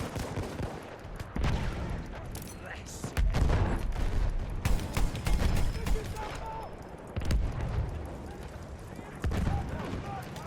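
A mounted gun fires in Battlefield 1 in repeated loud bursts and single cracks over about ten seconds, set against steady battlefield background noise.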